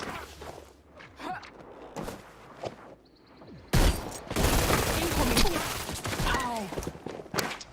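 A loud burst of rapid gunfire from a gun in a PS4 shooter game: quiet scattered thumps and footsteps give way to sustained, dense firing that carries on to the end.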